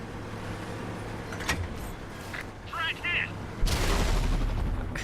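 Tank gunfire in a video game strikes a turret, marked by a sharp shot and a heavy closing blast over a steady engine rumble, while a player talks throughout.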